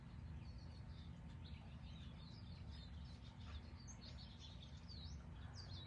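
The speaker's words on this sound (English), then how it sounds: "I know the birds are so beautiful." Birds chirp and twitter outdoors in a steady stream of small calls, faint over a constant low rumble of background noise, with no talking.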